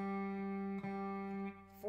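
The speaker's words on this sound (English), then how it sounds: "Third string is a G." Guitar's open G string, the third string, sounding as a sustained ringing note with a light re-pluck partway, steady and alone before fading slightly at the end.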